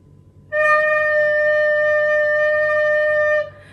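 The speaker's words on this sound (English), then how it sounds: "And how do we play lower D in the recorder?" A recorder sounds a single low D note, clear and steady, held for about three seconds with no accompaniment.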